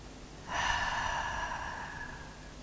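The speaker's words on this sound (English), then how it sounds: "Exhale through your mouth." A steady breathy exhale through the mouth during a yoga breathing exercise, one long soft whoosh starting abruptly and fading slowly, close and alone in a quiet room.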